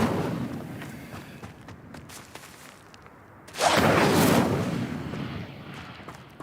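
The Incendio fire spell is cast in the video game Hogwarts Legacy: a sudden loud whooshing roar of flame bursts out midway and sustains for a few seconds before tapering, after a quieter stretch of scuffling combat sounds.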